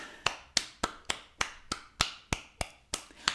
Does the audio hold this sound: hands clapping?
yes